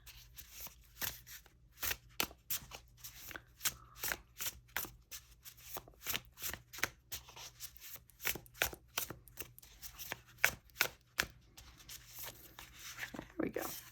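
Tarot cards from the Smoke, Ash & Embers deck are shuffled by hand in quick, irregular bursts of soft flicking and riffling. The cards sound close but quiet, and the handling runs steadily for several seconds.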